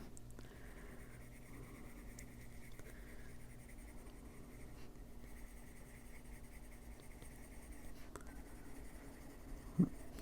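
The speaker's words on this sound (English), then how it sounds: "We're going to do pencil work on them." Soft, steady scratching of a pencil shading a colouring page for an adult colouring heart ornament, faint and close, with continuous strokes and brief pauses.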